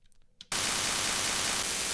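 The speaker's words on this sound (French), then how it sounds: "Ce bruit blanc, en fait, si tu le modules bien, peut avoir plein d'emplois" A few faint clicks give way abruptly to a sudden, loud wash of steady white noise in a music track, a flat hiss that holds evenly to the end.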